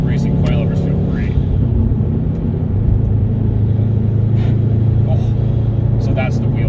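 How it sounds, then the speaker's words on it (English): Car engine intake roaring steadily and loudly from inside a car fitted with BC Racing coilovers, a constant low drone throughout with people talking over it. "Oh my gosh, that intake noise."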